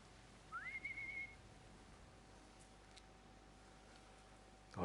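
A short rising whistle tone in a video game, a brief single sustained note near the start, over a quiet steady background hum with a faint tick later.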